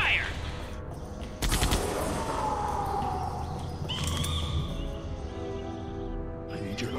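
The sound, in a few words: gunfire in Jurassic Park: The Game video game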